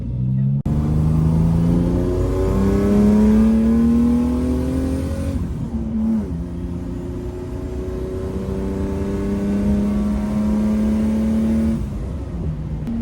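An intercooled Ford running on racing fuel accelerates hard, its engine note climbing loud and close through several gears with brief dips at each shift.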